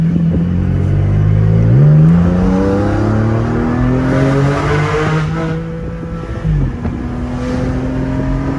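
A Porsche 718 Spyder's flat-six engine pulls hard from inside the car. Its loud, rising howl climbs through the revs, breaks at two quick gear changes and keeps building with a strong, continuous roar.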